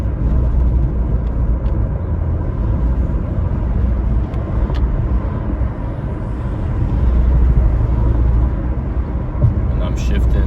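A 2012 Porsche Panamera 4 drives in manual mode with a steady low engine and road rumble, loud and continuous with a slight swell near the end.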